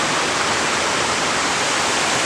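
A stream running heavily behind a shop, its water rushing as a loud, dense and constant roar with no break or talk.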